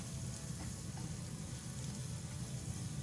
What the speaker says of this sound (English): I'm going to cook the garlic until it releases that delicious garlicky smell.